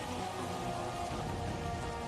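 Steady, dense rain from an animated Avatar: The Last Airbender episode, a continuous hiss of drops pattering on surfaces without break or variation, with no voices over it.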